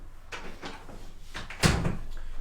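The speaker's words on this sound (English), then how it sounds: "Let me just shut the door." A door being shut indoors, several soft scraping knocks followed by a firm, louder closing thud near the end, close by with no talking.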